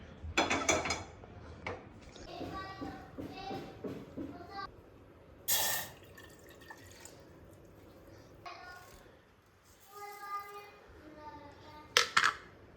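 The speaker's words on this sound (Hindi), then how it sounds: "अभी मैं एक यहाँ से वो ले लेता हूँ पतीला" A metal cooking pot is picked up and handled in a home kitchen before making tea, with a few clanks and scrapes, some running water and rattling, while someone talks nearby in Hindi.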